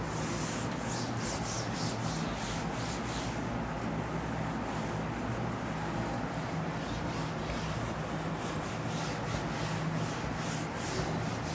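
A steady, continuous rubbing on a board, like a duster wiping it clean, runs evenly for the whole stretch with no pauses.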